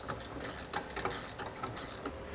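A ratchet wrench tightening a bolt with a nylon lock nut on a Demco Hijacker Autoslide fifth wheel trailer hitch, three short bursts of rapid close clicking separated by pauses, no talk.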